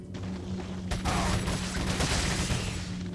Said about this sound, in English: Machine gun is actually pretty useful for taking care of head bursters.